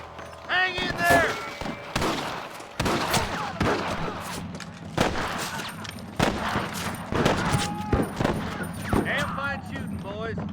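Gunfire in the video game Red Dead Redemption, rapid scattered shots in irregular bursts with sharp cracks and thuds, character voices speaking between and over the shooting.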